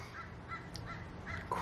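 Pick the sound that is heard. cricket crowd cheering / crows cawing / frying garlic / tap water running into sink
crows cawing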